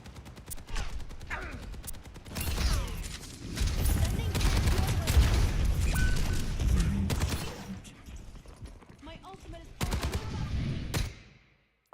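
Rapid bursts of gunfire in Overwatch 2 rattle through a busy team fight, loud and dense in the middle and then tapering into scattered shots before cutting out, with voices talking over it.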